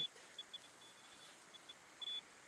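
An EMF meter at a Civil War battlefield ghost hunt emits quiet, scattered short beeps and one longer bleep over faint background hiss, triggered by a nearby phone.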